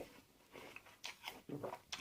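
A fresh, crunchy apple is bitten and chewed up close, with a few crisp crunches in uneven bursts, faint and quiet.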